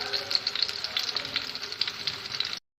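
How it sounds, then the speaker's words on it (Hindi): Kebabs fry in a pan as pizza topping, a steady close sizzle with crackling pops throughout before cutting off abruptly. "ये देखिए साथ में फ्राई हो रहे हैं कबाब, पिज़्ज़े के लिए रेडी हो रहे हैं"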